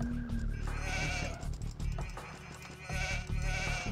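Sheep bleat repeatedly in a strategy video game, several wavering calls at close range over soft background game music.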